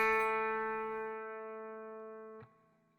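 A single A note plucked on the G string's 2nd fret of a guitar rings out alone, clear and sustained, slowly decaying before being damped with a short buzz near the end.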